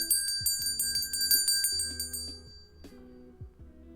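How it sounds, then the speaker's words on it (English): Bright metallic bell strikes ring out in quick repeated bursts over an underlying melodic backing, then thin out to a couple of later dings as the ringing decays. "Ring the bell."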